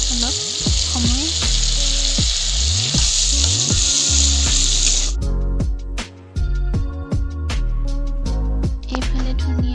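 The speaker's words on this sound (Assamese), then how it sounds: "তেলতে অকণমান দেৰি ভাজি থাকিম বিলাহীখিনি অলপ কমি যোৱাকৈ ভাজি থাকিম" Chopped tomatoes, ginger and garlic frying in hot oil for chicken biryani, a loud, close sizzle with stirring clatter; the hiss drops away midway, leaving intermittent scrapes and crackles.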